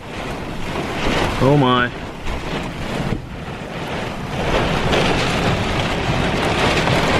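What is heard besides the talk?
strong wind buffeting an RV during a severe thunderstorm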